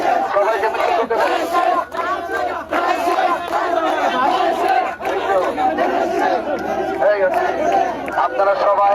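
A street procession crowd marches and chants in unison, loud and close, with rhythmic shouted slogans repeating steadily throughout and surrounding chatter mixed in.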